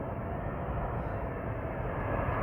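A United Boeing 777 airliner roars at London Heathrow, a steady broad jet rumble heard from nearby with no talking.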